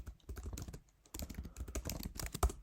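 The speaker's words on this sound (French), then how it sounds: "si je tape ici, par exemple, qu'est-ce qu'on pourrait taper jouer enfant bois" Rapid typing on a computer keyboard, close and clear, with dense clicky keystrokes that stop for a moment and then resume in a steady flurry.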